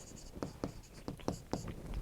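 Pen or pencil writing a mathematics solution by hand on paper during a Class 8 lesson, with quiet, close scratchy strokes coming in a series of short, irregular bursts.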